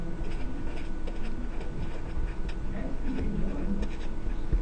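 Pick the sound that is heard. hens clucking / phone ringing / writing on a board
writing on a board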